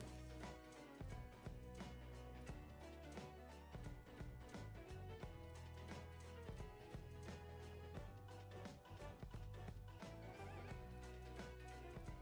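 Donkey in a video played back on a stream: braying and whinny-like calls over dense background music, faint and somewhat muffled, repeating through the clip.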